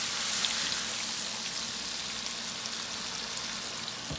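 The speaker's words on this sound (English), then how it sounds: "Okay, heavy cream going in." Heavy cream hits a hot pan for a lemon butter cream sauce, giving a steady, fairly quiet hiss and crackle of sizzling that continues evenly with no talking.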